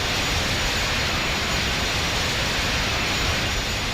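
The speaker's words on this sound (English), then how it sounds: "James, I've got the jet." Constant loud roaring rush of a jet aircraft engine in 007: Agent Under Fire, an unbroken broadband drone with no voices.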